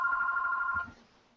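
A mobile phone rings with a bright electronic two-tone trill, loud and steady for under a second before cutting off into quiet room tone.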